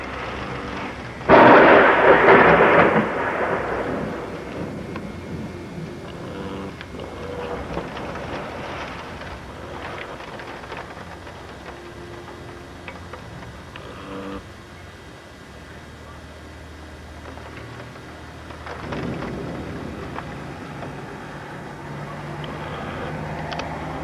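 A violent thunderstorm with rain near a tornado, striking a home: a heavy burst of thunder or impact roars early, then a dense wash of wind, rain and rumbling noise continues steadily throughout.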